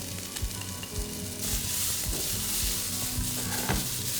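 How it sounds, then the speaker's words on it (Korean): Sliced cucumber stir-frying in a hot pan with a little cooking oil: a steady, bright sizzle that swells louder partway through, with soft scrapes and taps of stirring underneath. "오이가 들어갔을 때 칙 소리가 나야 오이에서 수분이 빠져나오지 않기 때문에 팬을 제대로 달궈서 쓰셔야 돼요."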